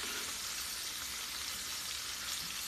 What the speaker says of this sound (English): when you're sauteing like this, it's just a little easier to use the spoon to flip